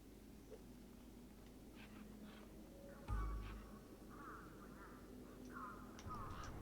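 A bird in the game Beyond a Steel Sky gives several faint, harsh quacking squawks in short bursts over a low, steady background hum.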